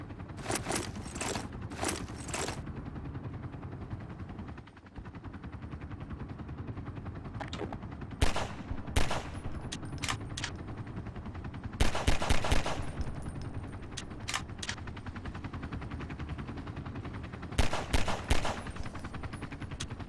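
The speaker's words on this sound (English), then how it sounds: "Why are you shooting me?" Bursts of video game gunfire crackle in short rapid volleys over a steady low background hum, recurring several times at moderate loudness with no talking.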